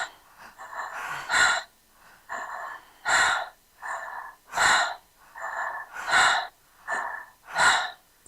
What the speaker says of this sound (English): Just think of it while you're breathing, and breathe it in.